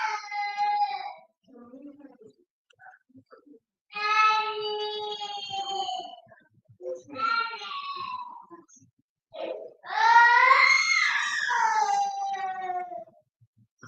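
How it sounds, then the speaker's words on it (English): A young child screams and wails in the background in several high, strained bursts separated by brief pauses, with quiet gaps between outbursts. "I have a screaming child in the background"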